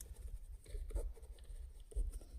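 Chalk or marker scratching across a board in a maths lesson, a few short strokes and taps at close range with quiet room tone between them.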